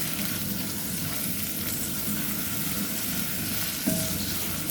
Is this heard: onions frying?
yes